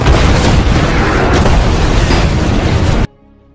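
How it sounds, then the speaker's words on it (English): Dynamite blasts vehicles into the air at night in a desert film scene, producing a loud, sustained roaring explosion for about three seconds that cuts off abruptly. "Immortan's army doesn't see the dynamite at night and several of their vehicles get blasted into the"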